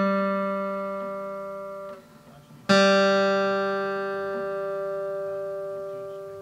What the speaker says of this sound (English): the fifth fret on the D string should sound the same as the open